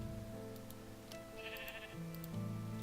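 Sheep bleats from the video game Minecraft, a few short tonal calls over a steady hum of game music and ambience, with no talking.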